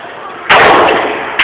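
A gun fired upward, a sudden loud close blast that cuts in after quiet background noise and rings out for most of a second, followed by a second sharp onset right at the end.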